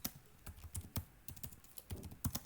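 Quick typing on a computer keyboard, a steady patter of light clicking keystrokes with irregular spacing, close and fairly faint, with no talking.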